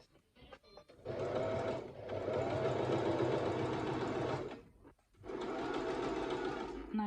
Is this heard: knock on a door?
no